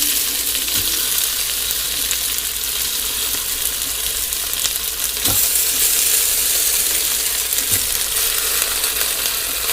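Stuffed potatoes hissing and crackling in a hot pan, a steady close sizzle throughout with a few faint clinks of utensils, no voices.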